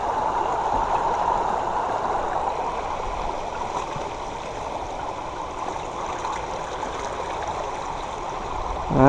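A steady rushing of stream water with continuous splashing and gurgling as a hand throws water about, close and moderately loud, running unbroken without any voices.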